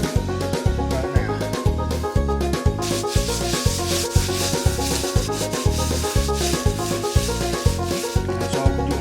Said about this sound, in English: You do want to kind of rub whatever seasoning you're doing into those little cuts that you make